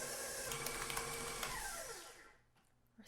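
An electric mixer whirs steadily while beating keto blueberry swirl cheesecake batter in a bowl, loud and continuous for about two seconds before winding down and cutting off, leaving a quieter tail.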